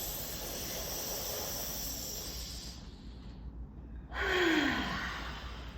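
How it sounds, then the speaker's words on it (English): A deep, audible inhale during a breathing exercise, drawn as a long airy breath that swells near its end, close and fairly loud, with no talking over it. "Inhale. Keep coming. Inhale."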